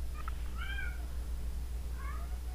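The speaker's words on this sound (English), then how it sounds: "sorry, cat's acting up" A house cat meows a few times in a room, soft, brief calls spaced apart over a low steady background hum.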